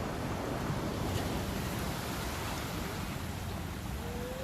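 Ocean waves on the Atlantic coast below Parque Genovés in Cadiz, a steady broad wash of surf heard from a distance with some wind, continuous and even, with no voices.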